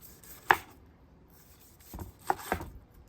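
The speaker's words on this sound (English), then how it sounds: "You're going to want to slice this thin as possible." A knife slices thin pieces of grilled Santa Maria-style meat on a cutting board, giving a few soft, sharp cutting taps spaced apart over quiet background.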